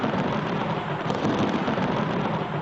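Dramatized thunderstorm over Jerusalem: a steady, loud roar of heavy rain with low rolling thunder rumbling underneath for the whole stretch, no voices.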